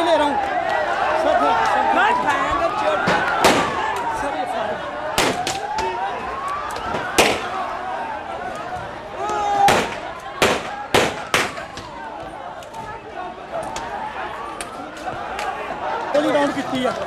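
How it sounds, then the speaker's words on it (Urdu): Gunfire during a police crackdown: a series of sharp, loud cracks, some in quick clusters and others spaced seconds apart, over a wailing siren, crowd noise and people talking. "سر یہ فائرنگ شروع ہو گیا"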